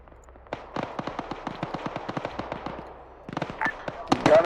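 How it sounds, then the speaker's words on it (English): Rapid, evenly spaced booms from mortars and gunfire in the military shooter Arma 3, dropping onto a village, a sharp crackling series of blasts close and loud, with a heavier burst near the end. "We're gonna drop mortars onto that village"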